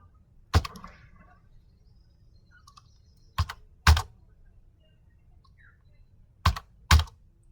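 Sparse keystrokes on a computer keyboard while C code is typed: five sharp, close clicks, some in quick pairs, separated by pauses and with no talking.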